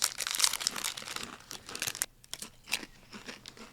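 Thin, crispy, elongated mushroom-flavored snack being bitten and chewed close up, with continuous brittle crunching and crinkling bursts and a brief pause midway.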